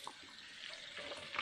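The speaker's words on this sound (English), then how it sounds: "So I'll rinse this real quick" Running tap water rinses a plastic part from a Philips LatteGo coffee machine, a soft continuous hiss and splash, quiet and close, with no talking.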